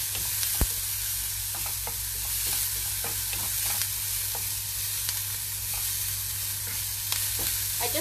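Onions fry in a pan for a Kerala curry, giving a steady loud sizzle with scattered crackles and the clicks of stirring, and no voices over them.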